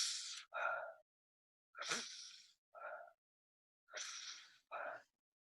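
Person wearing a mask makes strong forced breaths, three pairs of sharp airy bursts with short silent gaps between them, close and fairly quiet.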